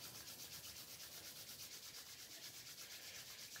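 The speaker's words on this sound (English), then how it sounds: "rub your hands together really fast, making them nice and energized, nice and warm" Two hands rubbed together briskly, a fast, even, dry swishing friction repeated steadily throughout, soft and close with no voices.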